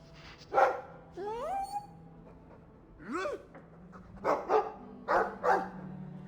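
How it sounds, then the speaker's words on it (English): A dog in the video game Dragon Age II barks and yips in several short bursts, moderately loud and spaced irregularly, with a few whining, rising yelps between them; no one talks over it. "I like the doggy."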